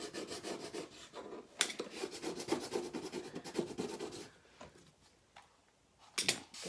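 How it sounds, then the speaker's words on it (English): Scraper rasping dried chalk paste off a silkscreen in steady rapid strokes, close and fairly loud, easing off and then a few short scrapes at the end. "And it just scrapes off."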